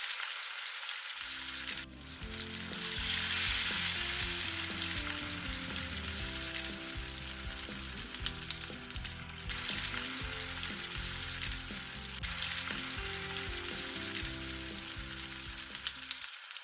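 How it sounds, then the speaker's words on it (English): Fish sizzles steadily in hot oil, frying until golden, a continuous crackling hiss up close with occasional pops and a brief stir, no talking. "I'm only frying it until the outside is beautifully golden"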